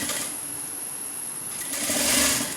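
A sewing machine runs steadily, stitching along the edge of a layered gathered maxi dress, a continuous close mechanical whir that swells louder toward the end.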